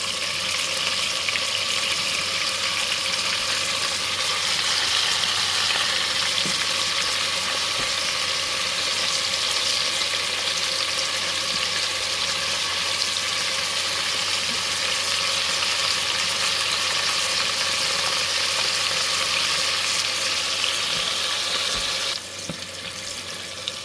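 Shrimp fry in hot grease, a loud, dense, continuous sizzle that holds close and steady throughout, dropping slightly near the end.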